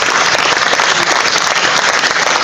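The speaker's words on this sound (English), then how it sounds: "David, you deserve a round of applause." An audience at a live broadcast event bursts into sustained applause, a dense, loud wash of clapping hands that continues evenly throughout without any speech.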